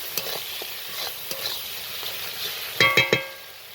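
Chili powder and ginger paste fry in a pan with a steady sizzle, broken by light stirring scrapes and a cluster of louder clinks of a spoon against the pan near the end.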